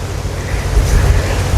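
Strong wind buffets the microphone in heavy, rumbling gusts under a constant rushing hiss, loud and unbroken, with no one talking.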